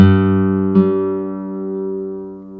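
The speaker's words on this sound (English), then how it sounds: "That kind of says it all right there, just an open A." Open A string plucked once on an early-1980s Horabe Model 35 classical guitar made in Kobe, Japan, ringing long and full, with a slight second touch that lets the note sustain and fade slowly, alone and close.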